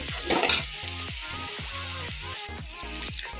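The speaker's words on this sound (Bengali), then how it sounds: "মূলা ভাজা আগে করছি, তারপর বেগুন ভাজা করব।" Radish slices fry in a pan for a home lunch, giving a steady, fairly quiet sizzle with an occasional stir, while recurring tonal sounds run in the background.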